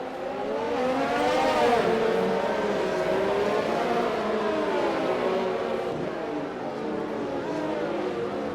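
Race cars in a racing video game, running bunched up behind a safety car, produce a continuous layered engine drone with several pitches rising and falling together at moderate loudness, with no speech.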